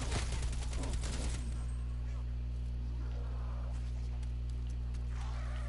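Rapid bursts of gunfire crackle in Call of Duty: Cold War zombies mode, a dense volley in the first second and a half, then quieter scattered in-game sounds over a steady low hum.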